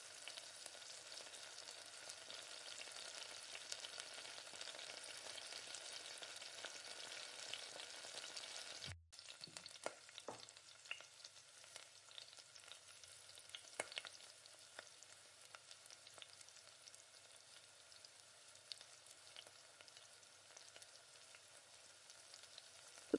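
Curry leaves sautéing in hot oil in a pan for chicken curry give a steady, loud sizzle that breaks off briefly, then resumes as a crackling fry with scattered stirring taps.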